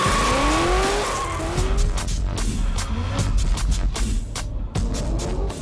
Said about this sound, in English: This discipline that he wants to launch in India is called the drift. It is the art of controlled skidding